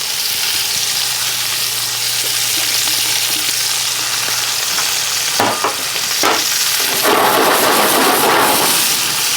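Carrot, bay leaves and scallion fry in a pan with a loud, steady sizzle, joined by rustling bursts as the pan is shaken and stirred.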